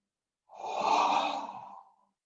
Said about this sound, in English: And then exhale through the mouth.